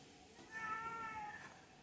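Toast, a cat at a humane society, gives one drawn-out, fairly quiet meow lasting about a second, alone in a calm room.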